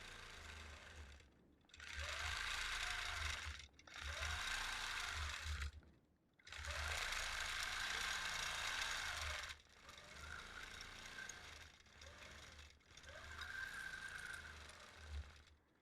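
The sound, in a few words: sewing machine stitching a continuous curve while quilting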